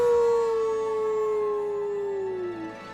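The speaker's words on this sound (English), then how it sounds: "But first, how about a good victory howl?" A wolf in the game Okami lets out a single long victory howl. The howl is loud and alone, sliding slowly downward in pitch and fading at the end.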